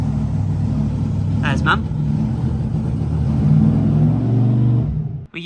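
A monster truck engine revs steadily as the truck comes off its blocks at a Devon truck show, a loud, sustained rumbling drone with a brief voice over it before the noise cuts off.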